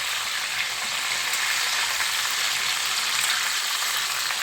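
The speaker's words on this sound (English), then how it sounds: "chicken breasts, get them all fried up nice and crispy" Chicken breasts frying in a pan for chicken parmesan, a steady close crackling sizzle of hot oil that holds at an even level with no voices.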